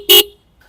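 Twin Minda horns fitted to a Triumph Scrambler 400 X motorcycle give one short, loud, close honk lasting about a fifth of a second, followed by quiet.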